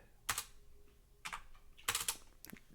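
Short bursts of keystrokes on a computer keyboard while typing code, clustered into four quick flurries with pauses between them, fairly close and moderately loud, no voice.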